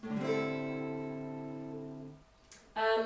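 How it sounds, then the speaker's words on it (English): An acoustic guitar in standard tuning with a capo on the 5th fret rings out a strummed chord that sustains and slowly decays. A brief, louder strum starts again near the end. "guitar should be in standard tuning with a capo on the 5th fret"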